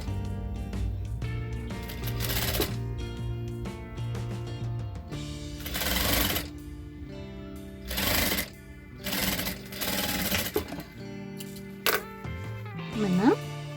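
A sewing machine stitching fabric in short runs, rapid mechanical clatter starting and stopping in bursts with pauses between, close and fairly loud.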